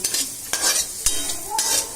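Small onions and curry leaves fry and sizzle in a pan for a Kerala-style prawn roast, with steady crackling broken by several sharp scraping stirs of a spoon at close range.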